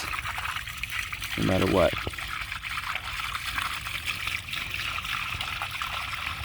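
Dirty water, brown like chocolate milk, pours briefly from a cleaning machine into a drain, a short gurgling burst under a steady background hum, with someone talking over it.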